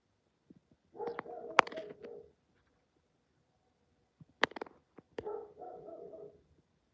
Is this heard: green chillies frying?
no